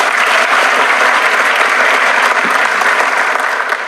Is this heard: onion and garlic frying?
no